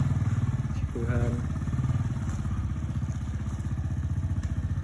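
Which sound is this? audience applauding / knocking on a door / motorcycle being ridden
motorcycle being ridden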